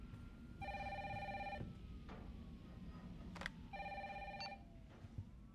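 A phone rings in Resident Evil, two bursts of an electronic trilling ring separated by a pause, clear and fairly close over a low ambient hum, with no talk.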